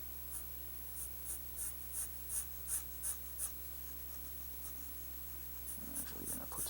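A pen scratches across paper in a steady series of short strokes, then pauses before a few more strokes return alongside faint rustling, all fairly quiet and close.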